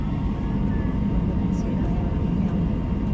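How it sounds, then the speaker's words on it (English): Steady low rumble of a JetBlue airliner taxiing out to the runway, a continuous engine drone with a faint tonal whine, heard from inside the cabin. "On our taxi out to the runway, we made a sudden U-turn"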